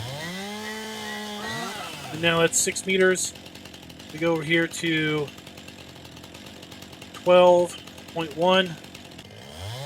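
A chainsaw in Farming Simulator 19 revving in short repeated bursts, about four loud cuts separated by a steady idle, while someone talks over it.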